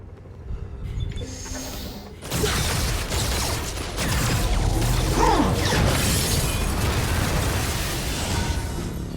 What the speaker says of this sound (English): Are they seriously trying to break down a glass door?